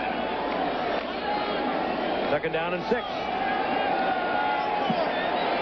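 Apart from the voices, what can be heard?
stadium crowd at NFL football game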